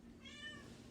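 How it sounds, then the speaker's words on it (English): A single faint, drawn-out kitten meow aboard the Carnival Mardi Gras cruise ship, heard distantly over low background hum. "I think there's another kitty meowing"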